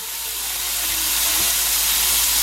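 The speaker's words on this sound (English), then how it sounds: "Then I'm also going to add 1 cup of frozen peas" Frozen peas hit hot bacon grease in a pan with a loud, steady sizzling hiss that swells and holds throughout, with no talk.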